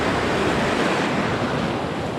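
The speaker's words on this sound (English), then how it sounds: "That just means that there's surf and possibly rip current here." Steady ocean surf rushes and roars continuously at a beach in Mexico, loud and dense, mixed with wind noise on the microphone.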